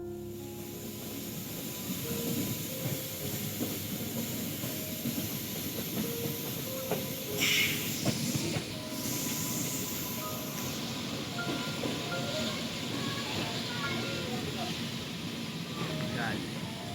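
Passenger train 22420/19 runs from Anand Vihar toward Ghazipur City, giving a steady rumbling, hissing ride noise with faint clicking of the wheels and a brief louder rattle partway through. Voices are faintly audible beneath it.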